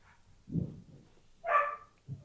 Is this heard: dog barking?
yes